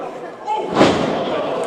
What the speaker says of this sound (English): Oh, cutter on the top rope.